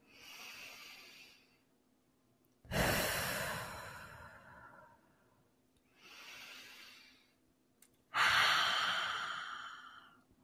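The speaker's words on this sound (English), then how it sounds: "start off with a conscious breath into the nose" Slow, conscious breaths drawn in through the nose and let out again, each lasting a few seconds, close and alone, alternating softer inhales with louder hissing breaths.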